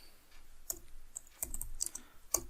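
Computer keyboard typed on while coding in JavaScript, giving scattered clicky keystrokes in small bursts across the moment, close and fairly clear with no talking.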